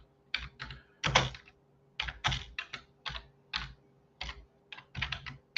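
Computer keyboard typing in bursts of quick keystrokes, with short pauses between runs, close and clear while a prompt asking Copilot for an article on Azure Application Gateway is entered.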